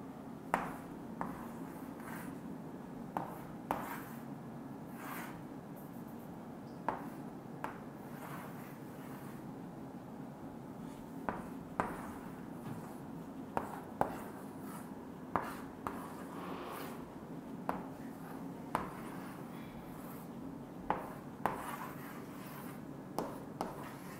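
Marker or chalk writing on a board during a class, a faint run of short scratchy taps and strokes repeating irregularly over a quiet low background hum.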